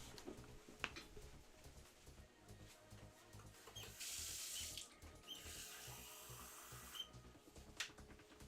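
Water runs steadily from a tap into a sink, a broadband hiss in two bursts with brief splashes and small clinks in between, fairly close and alone without talk.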